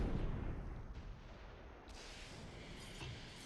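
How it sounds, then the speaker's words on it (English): Rocket artillery slamming into a KV-1 tank in the Close Combat III war game, a rumbling, noisy roar of blasts that starts strong and then settles into a steady washing din with a few sharper hits near the end. "let's just use the last 3 rockets right here on the KV-1"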